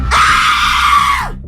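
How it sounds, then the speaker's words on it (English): A single blood-curdling haunted house scream, loud and close, held for over a second before trailing off abruptly, with a low hum underneath. "That was a haunted house scream for sure."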